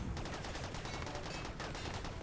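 Rapid 14.5mm cannon fire aimed at termites in the game Rimworld: a dense, continuous burst of overlapping shots at steady loudness, running through the whole stretch with no talking.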